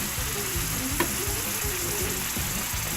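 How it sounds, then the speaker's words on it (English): A Reuben sandwich sizzles steadily on a hot restaurant grill, a dense close-up frying hiss with soft rhythmic low thumps and a brief clink partway through, with no talking. "normally I'm just going to grill it up a little bit"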